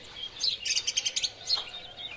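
A blackbird and its recently fledged young calling, a quick run of bright, repeated chirps and tweets followed by a single call, close and fairly faint against quiet outdoor air.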